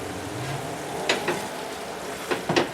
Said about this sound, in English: it'll take about a minute and a half to dissolve or reduce the alcohol out of the wine